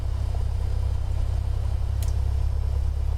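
Cessna Skyhawk engine running steadily in Microsoft Flight Simulator 2020, a constant low droning rumble heard from inside the cockpit, with a brief faint click partway through.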